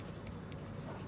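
Faint scratchy strokes of writing on a board during a physics class lecture, soft and close, with a few brief marks standing out over a steady low room hiss.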